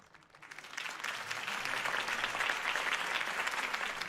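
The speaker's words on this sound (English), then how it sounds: "If only Mr. Wayne, my campaign's largest backer, could have heard that applause" A crowd applauds at a political campaign speech in a Batman video game, with dense, sustained clapping that builds quickly after a quiet start and holds steady at a moderate distance.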